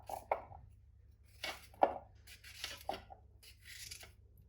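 Unpeeled fresh ginger cut into small pieces with a knife on a board, a few sparse, separate thuds and scrapes in a quiet room.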